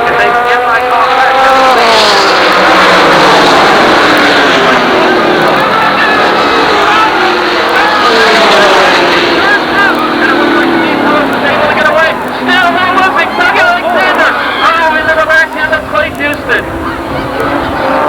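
Super late model stock cars racing at Jennerstown Speedway, loud engines sweeping up and down in pitch as they pass, with crowd noise beneath and a commentator talking throughout.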